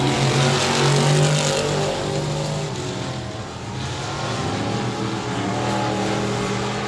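Race cars lapping at the 67 Speedway of Texarkana, a dense, steady engine roar from several cars at once, loud and continuous with a slight dip in the middle as the pack passes.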